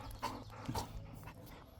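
Runt, a jealous pet dog, gives a couple of brief, faint yips or whimpers while his owner pets another dog outdoors, against low background rumble.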